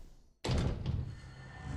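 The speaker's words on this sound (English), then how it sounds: "I heard the creaking of a door and a hard thud as it shut." A door shutting with a sudden hard thud that breaks near silence, followed by a lingering low rumble and a faint tail; no creak is clearly audible.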